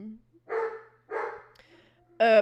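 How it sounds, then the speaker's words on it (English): A puppy barks nearby in three separate sharp yaps, the last one higher and more strained, with brief quiet gaps between them. "Yes, it's the idiot puppy."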